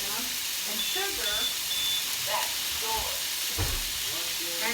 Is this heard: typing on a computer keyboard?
no